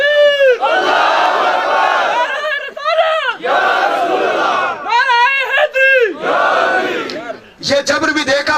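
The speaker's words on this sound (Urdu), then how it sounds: "نعرہ تکبیر تے نعرہ رسالت پورا نعرہ مارو" A large crowd roars the Naara-e-Takbeer and Naara-e-Risalat slogans in loud, sustained unison shouts, several long chanted calls in a row with short gaps, close and filling the space.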